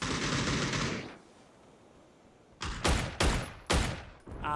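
Gunfire in a competitive video game match: a steady hiss fades out, then after a quiet stretch come four loud, close bursts of rapid automatic fire in quick succession.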